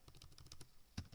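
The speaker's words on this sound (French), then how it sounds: "On va taper aussi le projet" Quick clattering keystrokes on a computer keyboard, a rapid run of light clicks at close range, quiet and alone, with one firmer tap near the end.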